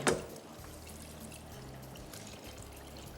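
Water is poured into a garlicky lentil mince dish (lehsani masoor daal qeema), starting with a brief splash and settling into a faint, soft trickle and bubbling with no one speaking.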